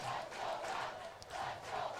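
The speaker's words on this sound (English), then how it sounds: "Crowd loud here at Howard Wood Field supporting their Bucks" A loud crowd roars steadily at a soccer match at Howard Wood Field, a dense, continuous swell of cheering and shouting supporters with no single voice standing out.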